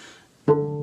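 A single low, deep plucked cello note on the D string that rings out steadily after a sharp onset, following a brief stretch of quiet.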